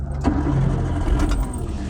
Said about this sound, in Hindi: चलिए अब कर लेते हैं इसकी सेल्फ को स्टार्ट